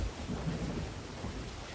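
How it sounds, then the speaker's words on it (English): A thunderstorm rumbles in the Sea of Thieves video game, a steady dense roar of rain and low thunder at moderate level, with no voices. "Through the fucking storm."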